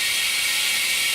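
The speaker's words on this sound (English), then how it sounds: "Turn on our vacuum." An OCA film laminating machine's vacuum runs as a steady, close whirring hiss with a faint mechanical edge. There is no speech.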